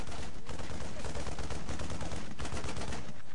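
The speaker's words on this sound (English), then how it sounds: "this Viking coming under a little bit of fire. Yeah, we're gonna be chased off by those Marines" Marines in StarCraft II open fire on a Viking, a dense, continuous rattle of rapid gunfire that stays loud and unbroken throughout, with only brief dips in intensity.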